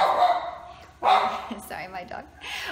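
A pet dog at home lets out a couple of loud, close barks that cut across a person speaking, with talk continuing around them.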